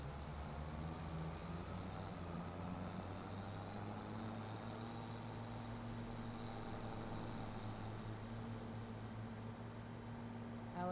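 A farm vehicle's engine in the game Farming Simulator 25 drones steadily while driving, a constant low hum with a faint high whine above it and nothing else.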